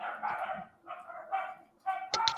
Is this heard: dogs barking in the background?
yes